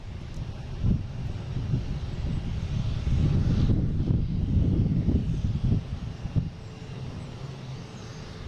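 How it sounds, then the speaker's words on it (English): A JetBlue airliner from Nantucket lands on runway 27 at Boston Logan, its engines a broad, rumbling roar that swells to a peak midway, then eases, with some wind buffeting and no talking. "They got JetBlue coming in from Nantucket, landing on 27."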